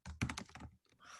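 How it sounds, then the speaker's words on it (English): Several quick keystrokes on a computer keyboard in a close, quiet burst, then a pause and a couple of softer clicks, with no talking. "And then you type tab."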